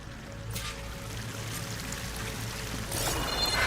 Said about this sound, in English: The waterfall must be coming from somewhere.